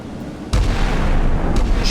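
Heavy 76mm naval gunfire and explosions in the game Sea Power during a 1970s British Royal Navy versus Italian Navy battle, a loud sudden boom followed by sustained rumbling and a second blast near the end.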